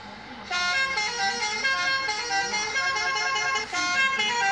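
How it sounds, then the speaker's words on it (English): Bus telolet horn blasting a rich, multi-tone melodic chord that sustains loudly and close, with a brief dip before the chord resumes, playing alone with no talk. "Do you like telolet sound?"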